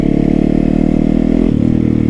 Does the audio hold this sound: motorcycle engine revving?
yes